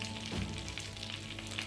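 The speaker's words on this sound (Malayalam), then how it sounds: "അതിലേക്ക് 1 ടേബിൾ സ്പൂണ് ബട്ടർ ഇട്ട് കൊടുക്കുക." A tablespoon of butter melts in a preheated pan, giving a steady crackling sizzle with a brief thump and bubbling burst near the start, close and alone.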